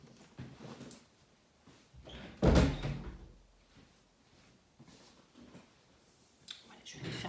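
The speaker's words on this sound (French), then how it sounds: "Voilà, je vais fermer la porte" A door is pushed shut with a single solid thud midway, among quiet room noise and a few small knocks and rustles, and someone speaks nearby.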